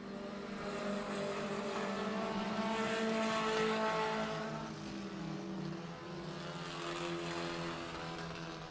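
Race cars roar continuously at Humberstone Speedway, a loud, sustained engine drone with rising and falling pitch as the cars pass on the oval, no voices over it.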